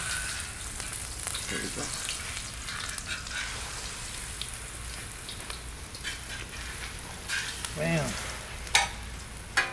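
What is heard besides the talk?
chile rellenos frying in oil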